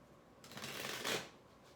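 Tarot cards being shuffled up close, a soft riffling flutter that builds and peaks before quickly fading, heard alone.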